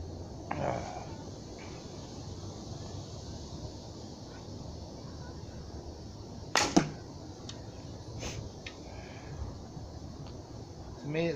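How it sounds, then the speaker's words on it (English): A recurve bow shoots an arrow into a block target fifteen paces away outdoors. There is a single sharp string snap and whoosh, then the thud of impact, over a steady background hiss. "I'm gonna shoot at my block target there."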